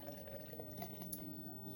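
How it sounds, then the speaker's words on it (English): Beer poured hard into a glass from a nearly empty container, a steady liquid rush and fill running throughout at close range, with no talk over it. "Let's do a hard pour for you guys real quick with what I got left in here"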